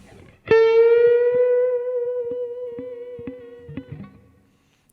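A single sustained electric guitar note rings out with distortion and vibrato, slowly decaying over several seconds, with light string and fret noises near the end.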